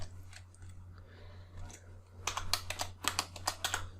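Fingers type on a computer keyboard, at first in sparse, quiet taps and then in quicker, denser bursts of clicks, close and fairly faint over a steady low electrical hum.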